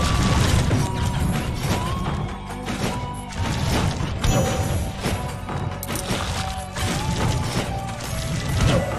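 Opening a blood chest in the video game Rogue Legacy: dense game sound effects with mechanical clanks, crashing impacts and ratcheting clatter layered over continuous game music.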